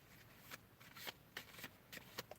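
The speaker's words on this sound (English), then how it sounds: "I just all of a sudden feel like I need to shuffle my cards" Tarot cards being shuffled, quiet close riffles and flicks in several short bursts, faint and intimate.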